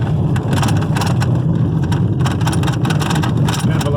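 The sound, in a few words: car driving into a neighborhood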